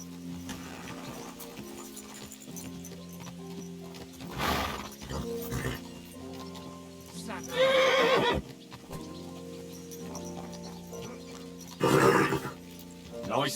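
Horse neighing with trotting hoofbeats during a mounted ride in Kingdom Come: Deliverance 2, with a few loud whinnies standing out over a steady game soundscape and music.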